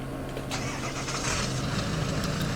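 A lifted Ford F350 mud truck with a 7.3 engine starts up in the SnowRunner video game, cranking briefly and then settling into a loud, steady, rumbling idle close at hand with no voices.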